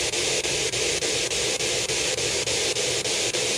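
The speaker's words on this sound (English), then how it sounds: "that's my SB7 spirit box, and it runs off of white noise" An SB7 spirit box hisses with loud, steady white-noise static, broken by rapid, evenly spaced brief dropouts as it sweeps radio stations. No voices are heard.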